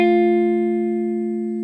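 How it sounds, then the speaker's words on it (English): One guitar note plucked again on the G string, sounding close and clean, ringing steadily by itself and fading gently. "And then I play that G string once more"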